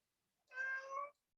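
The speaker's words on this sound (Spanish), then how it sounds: "El gatito dice que sí," A single clear cat meow, close and fairly loud, with a slight dip in the middle, set against otherwise silent surroundings.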